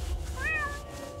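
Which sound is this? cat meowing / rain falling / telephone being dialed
cat meowing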